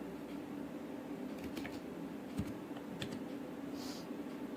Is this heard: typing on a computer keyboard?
yes